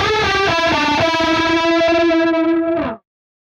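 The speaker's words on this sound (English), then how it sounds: "let's set the rate and depth just above midday for a much more intentional chorus tone" An electric guitar run through the Archetype: Petrucci X amp plugin with chorus, rate and depth set just above midday, plays a few sustained shimmering notes and chords. Loud and clean, it rings for about three seconds before cutting off.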